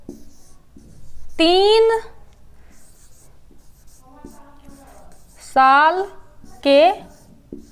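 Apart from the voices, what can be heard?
writing on paper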